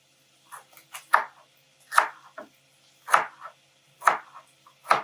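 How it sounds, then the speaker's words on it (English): A knife chops a stalk of celery on a board, six or seven crisp thuds spaced about a second apart, close and clear with no talking. "I finally chop up the stalk of celery"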